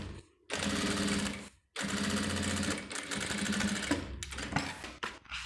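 Sewing machine stitching fabric with lining, close and loud, running in three bursts of steady, rapid chattering stitches separated by brief pauses.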